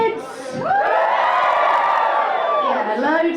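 A comedy club audience cheers and whoops loudly for a few seconds, a dense roar of many voices swelling and then easing off.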